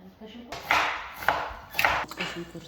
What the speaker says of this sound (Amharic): አሁን እሱ ቀዘቀዝ ሌላውን ነገር እንከታተፋለን ማለት ነው።